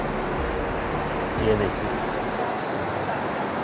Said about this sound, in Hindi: ये पानी की आवाज़ आपको आ रही होगी